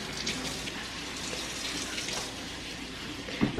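Tap water runs steadily into a kitchen sink during dishwashing, a continuous hiss and splash at moderate level with a soft clatter near the end.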